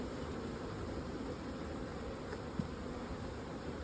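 Honey bees buzzing around opened hives at a beekeeping treatment trial, a steady, dense drone of many insects close by, with a brief faint knock partway through.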